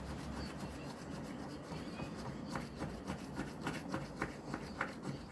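A scratch-off lottery ticket being scraped, giving a close, soft run of rubbing scratches that grow into quicker, brighter strokes toward the end, with no talking.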